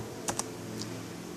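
A few quick keystrokes of a chmod command on a computer keyboard: two close clicks, a short pause, then a softer third tap over a quiet room hum.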